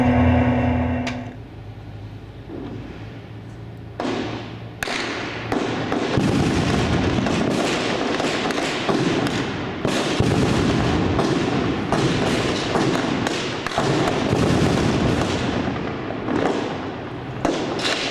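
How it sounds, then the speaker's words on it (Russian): Gunfire crackles in a street battle between infantry and militants in Jobar, Syria. Dense bursts and sharp single shots, some near and some farther off, go on without a break over a low background. No one speaks. "Сейчас активно идет перестрелка между пехотными подразделениями и боевиками"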